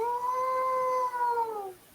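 A long, tonal howl rises slightly, holds, then slides down and fades, heard close and clear over faint background noise.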